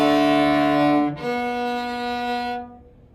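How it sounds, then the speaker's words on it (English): A cello sounds a sustained double stop on the D and A strings, two bowed notes ringing together with a brief bow change partway through before fading out, played alone with no talking. "That is called a double stop."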